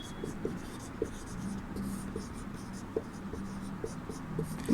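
Marker or chalk strokes on a classroom board, with short scratchy strokes and taps repeating in a rhythm under a quiet background hum.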